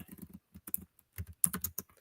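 Fingers tap on a computer keyboard in short irregular bursts of clicks, quiet and close, with brief pauses between clusters of keystrokes.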